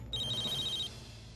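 A phone rings once, a short bright electronic trill that stops after under a second, in a quiet indoor room.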